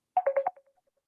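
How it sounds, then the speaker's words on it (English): A daughter's mobile phone gives a short electronic tone burst of four quick pulses, then fades out in a few faint echoing blips, close and fairly loud with no talking. "Sorry, that was my daughter's phone."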